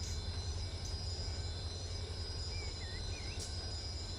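Low continuous rumble of a train rolling underneath in the Run 8 train simulator near Barstow, steady and somewhat distant, with a couple of faint thin wheel squeals partway through.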